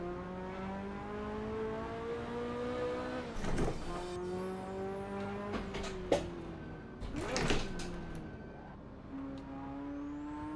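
Virtual car engine in the racing sim Assetto Corsa, a steady engine drone that rises in pitch through the gears, broken by a few gear-shift dips and clunks, sounding close and alone.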